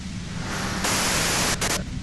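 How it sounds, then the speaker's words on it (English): Loud, steady broadband white-noise static from the Disco Elysium game, hissing on without a break and swelling brighter partway through, with brief dips and flickers near the end. "you can do it through the white noise"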